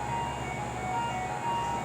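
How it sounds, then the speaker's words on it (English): A nearby ice cream truck plays its steady chiming jingle as it rolls past after a derecho storm, the tune held at an even, moderate level with a faint low engine hum underneath. "it never hurts to have the ice cream truck come by once in a while"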